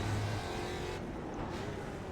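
Ford Mustang production race car on cold tires at VIR in iRacing, a faint engine hum that swells briefly at the start, then settles into a low, steady drone.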